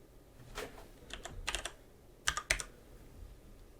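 Close-up typing on a computer keyboard: a scattered run of soft key taps, then two sharper, louder strikes near the end, with no voices.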